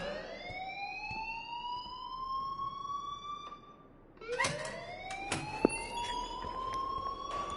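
A wailing alarm sounds in the video game Life is Strange. It rises and falls in pitch in long sweeps, breaks off briefly, then starts again, with faint scattered clicks and knocks behind it.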